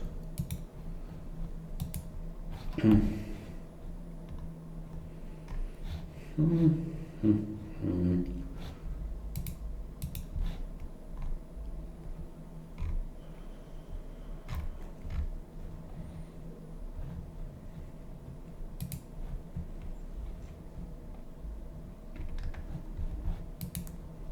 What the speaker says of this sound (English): Let's go to full screen and click around a bit.